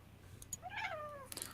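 A pet cat gives a single drawn-out meow, rising then falling, fairly quiet and close, followed by a few faint clicks.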